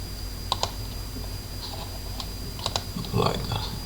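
Keys clatter on a computer keyboard while static DNS settings are entered on a Sophos XG firewall: scattered close, crisp keystrokes in small clusters, ending in a busier run of taps over a steady low hum.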